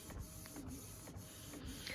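An inkjet printer runs in a home crafts room, a faint steady mechanical whir with regular soft clicks and ticks about every half second as the print head moves, with no talking.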